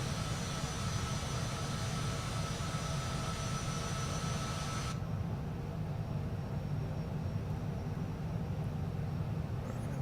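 In Microsoft Flight Simulator 2024, an aircraft departs an airport near Eagle Pass, Texas, with a steady, loud jet engine roar that holds constant throughout, the high end dropping away midway.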